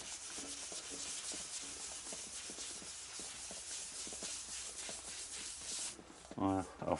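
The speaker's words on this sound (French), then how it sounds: "Ça se ponce très facilement." Sandpaper rubs back and forth in a steady scratchy rhythm over dried blue paint on a very rusty moped part from a 1985 Mobylette, close but faint, followed by a brief voice near the end.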